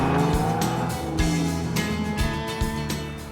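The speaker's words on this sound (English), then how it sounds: "Dr. Bowers heads out to the office in style. Got a Porsche in the garage" A Porsche sports car pulls away hard from a garage, engine revving through rising gear pulls with short bursts of tire squeal, loud and close, with no talking.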